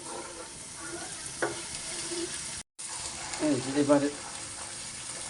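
Ginger paste frying in a pan for a crab curry, sizzling and stirred in short bursts, growing louder toward the end after a brief cut, with a voice speaking over it.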